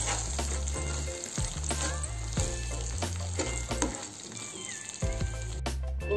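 Coconut milk semiya payasam with cashews and cardamom powder being stirred in a pot on a stove, a steady bubbling sizzle broken by repeated scraping clinks of a spoon, close and continuous without talk.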